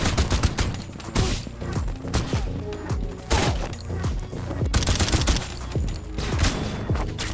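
Loud, close full-auto gunfire crackles in a John Wick-style shooter video game, with rapid bursts of shots and short pauses repeating throughout and no talking.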